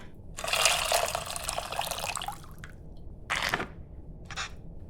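Tamarind water poured into a bowl in the cooking game Venba, a close splashing pour lasting a couple of seconds followed by two short trickling spills, with quiet room tone between.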